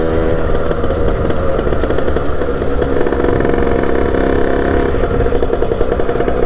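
A Peugeot NK7 scooter engine runs close by at a low idle, a steady, buzzing putter that holds unchanged throughout with a faint mechanical clatter.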